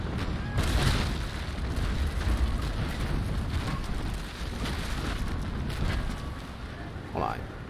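Cannons of a sailing warship firing a broadside in the naval combat game Naval Action, heavy rumbling booms rolling together over about eight seconds, with someone talking underneath.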